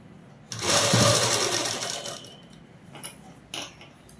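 A sewing machine stitches a dress collar in a short, steady whirring burst of about a second and a half, then winds down, followed by two brief faint clicks of the mechanism; close and clear.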